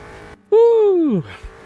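A race car in the sim racing game Automobilista 2 slides in a four-wheel drift with understeer, giving a loud, tonal squeal that swells and then bends downward for under a second before fading.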